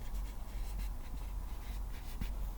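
A number written by hand, likely pen or pencil on paper: soft, continuous scratching strokes with small ticks, close and quiet over a low steady hum, with no talk.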